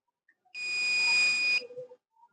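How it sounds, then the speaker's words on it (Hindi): A multimeter's continuity buzzer gives one steady electronic beep lasting about a second, close and clear, with small clicks from the probes before and after. "अब ये बजर मैं दिखाता हूँ तुम्हें करके, जब हम चेक करते हैं इसमें कंटिन्यूटी"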